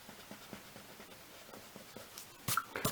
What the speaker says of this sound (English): I'm going to gently erase it up.